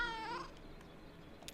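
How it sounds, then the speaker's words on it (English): A cat in the video game Kentucky Route Zero gives one short rising meow, close and clear, followed by quiet ambience with a few faint ticks. "Inquisitive meow."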